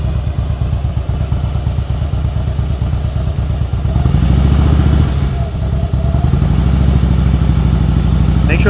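Motorcycle engine running loud and close during slow-speed riding practice in Illinois, a steady low idle rumble with clutch-controlled pulses and a brief rise in revs midway.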